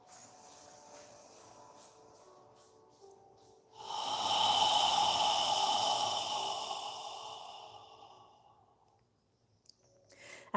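A slow breath drawn in through the nose and released out through the mouth, soft and close, one long airy exhale swelling and fading in a quiet room.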